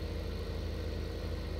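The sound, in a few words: tractor engine left running, from Farming Simulator 15 video game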